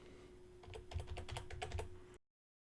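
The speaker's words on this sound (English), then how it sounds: "I'll start typing portfolio" Keystrokes clatter on a computer keyboard in a quick, steady burst of close, crisp clicks while a term is typed, then the sound cuts off abruptly.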